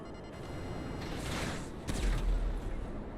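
Explosive weapon fire in GTA Online, with a missile launched from a Kosatka submarine and Oppressor missiles around: a dense, sustained crackle of gunfire and blasts, with a heavier low boom near the two-second mark, loud and continuous throughout.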